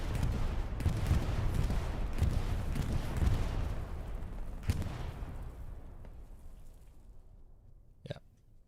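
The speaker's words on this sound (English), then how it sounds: "And there's coming a bombing run." Bombing-run explosions in the World War II shooter Hell Let Loose rumble heavily and roll on, with several deep blasts and a sharp crack midway, then fade to near quiet before one last distant thud.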